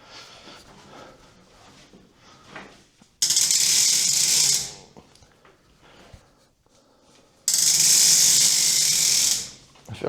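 Fittings are tightened while a tropical plant grow tent is assembled, giving two loud, sustained bursts of harsh ratcheting whir, each about a second and a half long, separated by quieter handling and rustling.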